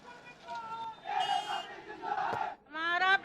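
Large crowd of protesters shouting slogans at a street demonstration against terrorism in Uttar Pradesh or Uttarakhand, with an effigy burning and police present; loud, sustained massed voices rising in waves of chanting and cheering.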